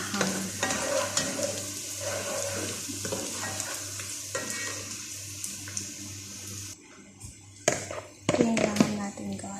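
Laham meat cooking for mandi sizzles and fries in a pan while being stirred, with running-water splashes and clatter mixed in, a brief lull, then renewed scraping; a person speaks over parts of it.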